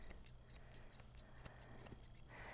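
Grooming scissors snip through the muzzle fur of a longer-nosed dog, giving a run of quick, faint, crisp clicks spaced in a steady rhythm, close up and with no talk over them.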